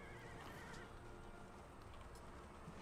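Delhi horsemen cavalry charge in an Empire Total War battle, horses whinnying and hooves clopping amid a dense, steady din of combat.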